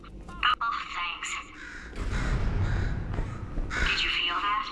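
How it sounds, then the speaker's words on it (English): A bird in the Portal 2 video game gives several harsh crow-like caws, mixed with a voice talking and louder game noise in the background. "Could you, murder this bird for me?"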